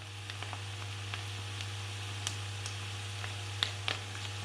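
Wood pigeon fillets fry over high heat in a pan, giving a steady soft sizzle with scattered small pops and crackles, fairly faint over a low constant hum.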